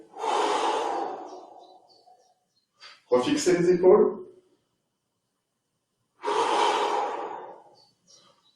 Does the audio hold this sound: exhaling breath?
yes